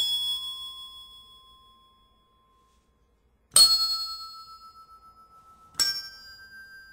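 A yellow bell from a children's music set struck three times, each ring clear and bright on the note E, decaying slowly into silence between strikes.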